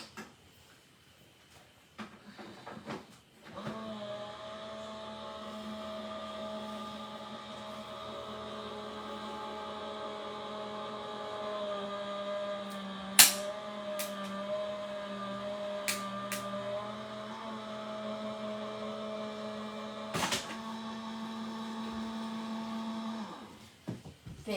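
A Gemini die-cutting machine runs with a steady motorized hum and whine for about twenty seconds, punctuated by a few sharp clicks and clacks, starting and stopping abruptly.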